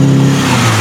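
A cheap, smoky Toyota RunX with a bad misfire has its engine running in a short, close, steady droning hum with a low pulsing undertone.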